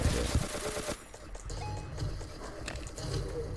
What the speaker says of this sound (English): Who's shooting at me?